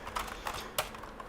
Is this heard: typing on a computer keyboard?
yes